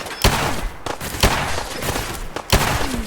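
Reaper of Pantheon, a modded weapon in Fallout 4, fires three loud, sharp shots at a slow, even pace, each blast followed by a short decaying tail.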